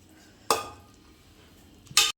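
Spoon scraping and clinking against a pressure cooker while stirring vegetable pulao with ghee, two short bright bursts a second and a half apart, close and fairly loud with quiet in between.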